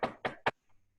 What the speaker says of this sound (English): I hope you can hear this. Can you hear that? It's knocking.